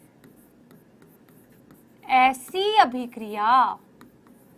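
Chalk or pen scratches across a board during a Class 10 science lesson on chemical reactions, heard quietly beneath a teacher speaking Hindi in the middle of the clip.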